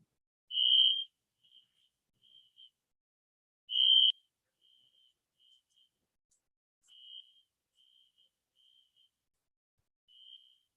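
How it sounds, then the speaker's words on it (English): A fire alarm sounds indoors during a Bhakti yoga talk, giving two loud, high, steady beeps a few seconds apart, with fainter intermittent tones in between, and no one speaking. "There is a fire alarm actually."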